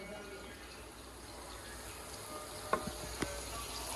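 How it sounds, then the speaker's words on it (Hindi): Onions frying in a pan give a soft, steady sizzle close by, with a few light clinks of a utensil against the pan near the end. "इधर हो गए प्याज फ्राई"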